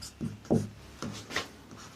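Chalk or marker strokes on a classroom board during a Class 11 chemistry lesson: a few short, scratchy scrapes spaced about half a second apart, close and moderately quiet, with no voice over them.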